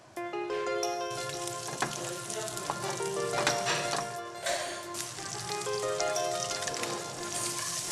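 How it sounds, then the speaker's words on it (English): Red mullet fillets with a light batter coating browning in a pan, a dense, crackling sizzle with spattering pops that holds steady throughout, heard with no talking. "he gently browns the fish."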